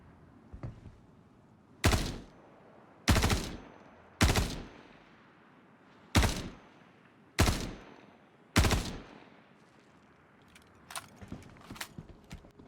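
Six loud, sharp gunshots from a P4 gun in a video game, spaced roughly a second apart, each a sudden broadband crack with a quick decay. Fainter clicks and shuffles follow near the end.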